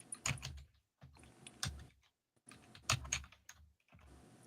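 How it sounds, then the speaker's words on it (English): Computer keyboard typing in irregular bursts of rapid clicking keystrokes, close and clear, separated by short silent pauses. "I'm busily typing in here"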